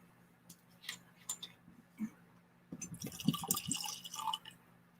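Still Austin whiskey poured into a blend, a few soft drips and trickles followed by a steadier splashing pour of liquid into a container, faint and close.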